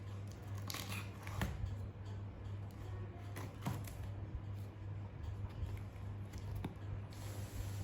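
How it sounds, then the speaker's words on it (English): Packing tape on a MacBook Air box peels and rips in scattered crackly bursts, close and fairly quiet, over a steady low electrical hum. "There is a tape above it. I will tear it."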